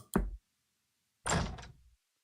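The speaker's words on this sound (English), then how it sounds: "I heard a knock, and Rei peeked in." A knock and then a sliding door opening in a visual novel, two short separate thuds with about a second of silence between them, the second one rattling slightly longer, heard alone.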